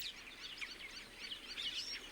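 Many birds, such as doves, glossy starlings and herons, chirp and whistle steadily around an African farm reservoir, a dense mix of calls heard from a moderate distance with no talking.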